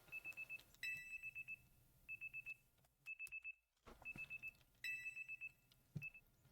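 An electronic alarm beeps in quick repeating bursts of short high tones, with pauses between groups, over a faint low background hum.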